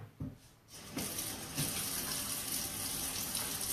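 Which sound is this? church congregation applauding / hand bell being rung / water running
water running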